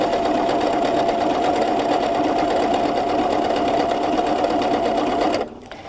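A PFAFF ambition 610 sewing machine stitches fabric in a steady, fast, even whir for several seconds, loud and close, then stops abruptly, with no talking.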